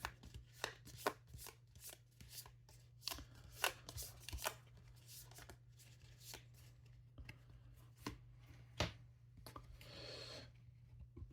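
A deck of cards for the board game ISS Vanguard is shuffled at close range, a run of quick riffling and tapping bursts with short pauses between them and no talking.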